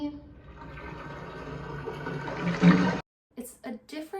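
Water poured over a person's head and body while bathing in a film scene, a steady close pouring splash that swells and then cuts off abruptly, followed by brief speech.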